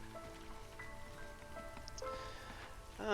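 Light drizzle falling in the video game Against the Storm, a soft steady patter of rain under layered game music and interface chimes, with no talk.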